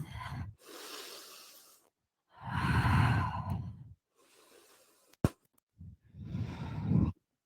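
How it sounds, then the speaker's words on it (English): Slow ujjayi breathing during a vinyasa power yoga session, long audible inhales and exhales with a hushed throaty rasp, several drawn-out breaths separated by quiet gaps, plus one brief sharp click, close and without talk. "Staying with your ujjayi breath."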